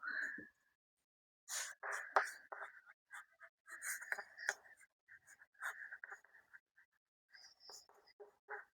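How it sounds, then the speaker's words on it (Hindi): A pen writes a math formula by hand in quick, faint scratching strokes, short bursts with brief pauses, close and quiet with no talking. "मैं फिर से इसको एक बार लिख रही हूं"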